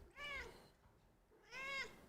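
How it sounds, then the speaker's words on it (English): A cat meows twice, two clear separate calls with a pause between, close and fairly loud, no talk over them. "Dude, why are you meowing so much, bro?"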